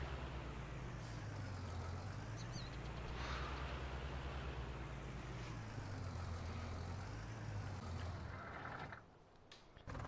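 Tractor engine running steadily in the Ravenport map of a farming video game, a loud continuous drone with a wavering low hum throughout, dropping off briefly near the end.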